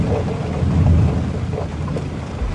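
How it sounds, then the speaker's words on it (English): A violent storm at sea in the Pacific, with a steady roar of rain and a low rumble of thunder swelling in the middle, loud and continuous with no voices. "a dangerous storm suddenly hit"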